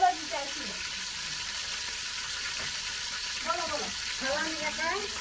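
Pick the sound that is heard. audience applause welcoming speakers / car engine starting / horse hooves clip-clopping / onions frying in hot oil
onions frying in hot oil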